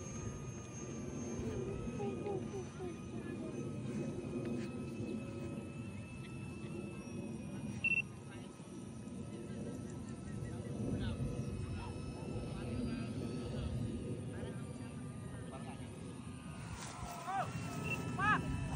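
A light aircraft landing at a small flying field, its engine a faint, steady drone in the distance across the whole stretch, with voices talking throughout.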